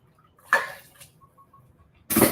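Filtered water poured from a filter jug into a soup pot of chicken noodle soup, a short splashing pour near the start and another loud rush of water at the end, with a quiet kitchen between.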